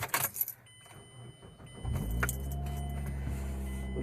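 A 2007 Mazda 5 engine cranks and catches after a brief jangle of keys, then settles into a steady idle with a slight rise in revs, loud and close.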